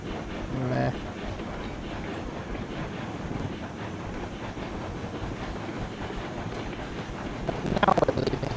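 Steady rumbling rolling noise of a train pulling away in the railroad game Railroads Online, continuous and fairly loud throughout, with a short tonal hum near the start and a brief brighter rattling burst near the end.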